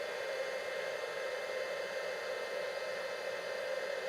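A heat tool warms freshly stamped, gilded craft work with a steady, close blowing whoosh that holds evenly from start to finish, alone without talk.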